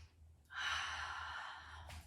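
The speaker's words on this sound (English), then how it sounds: "Big full breath." A long, full inhale during a gentle beginner's yoga session, a close airy breath drawn steadily for about a second and a half, with no talking.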